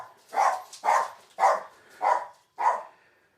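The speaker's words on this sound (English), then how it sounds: "sorry about that, my dog's barking" A pet dog barks five times in an even, spaced rhythm, each bark loud and close indoors, with no talking over them.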